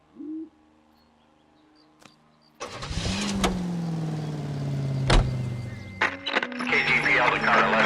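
A car's engine starts with a short cranking burst, then settles into a steady mid-pitched drone that rises and holds as the vehicle pulls away in L.A. Noire, with a brief quiet lead-in before it catches.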